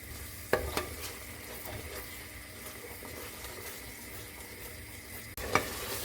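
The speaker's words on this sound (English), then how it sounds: "I'm stirring it through the ghee." A spiced paste fries in ghee in a pan with a steady soft sizzle while a spoon stirs through it, a few sharp scrapes and taps of the utensil against the pan standing out.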